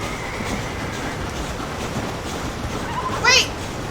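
A train in the Red Dead Redemption video game rumbles and clatters steadily at moderate loudness, with a short sharp metallic squeal near the end and faint game sounds underneath.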